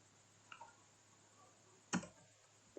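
A few sparse keystrokes as a command is typed on a computer keyboard: quiet isolated clicks, then one sharper, louder key press, like Enter, in an otherwise quiet room.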